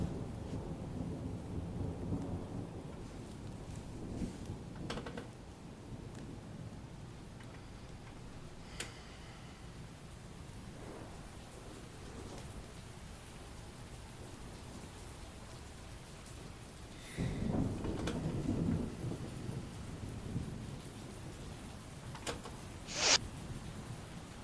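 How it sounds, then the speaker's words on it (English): Thunder from a storm rolls in as a deep, rumbling swell partway through, over a steady wash of rain, with a short sharp crack near the end; nobody speaks. "That thunder was perfect fucking timing."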